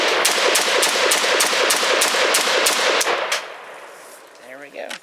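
A CETME LC rifle fires a fast, loud burst of about ten rounds in quick, even succession, then a short echo fades into quieter handling noise.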